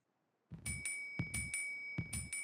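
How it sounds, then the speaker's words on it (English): A bell in a strategy video game rings after a moment of silence in three evenly spaced double strikes, each with a bright sustained ringing tone over a soft low thud. "There's the bell."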